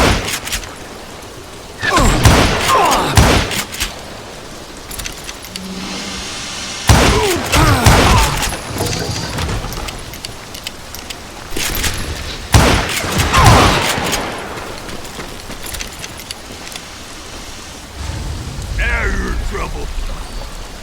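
Gunfire from the Wild West shooter Call of Juarez: Gunslinger cracks out in sharp, heavy bursts and volleys at irregular intervals across a rumbling in-game background.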